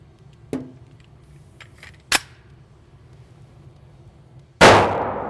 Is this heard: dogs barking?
no